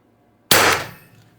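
A Mercury Rise TR50 Torpedo fires a single loud, sharp shot out of near silence, and the report tails off quickly.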